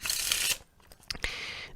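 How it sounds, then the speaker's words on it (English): A deck of playing cards riffle shuffled in two quick, close bursts of crisp fluttering slaps, a short pause between them with a light tap. "And I'll give it one more riffle shuffle just for good measure."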